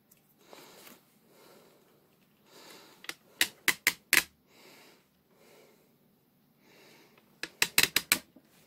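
Cardboard and plastic packaging of a Masterverse Musclor and Skeletor figure pack being handled and opened, soft rustles broken by two bursts of sharp rapid clicks and snaps, close and fairly quiet.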